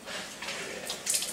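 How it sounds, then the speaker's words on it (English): Water runs steadily from a kitchen faucet that feeds a Chanson Miracle PL-B702 water ionizer, a continuous broadband rush and splash that swells louder toward the end. "When we turn the faucet on"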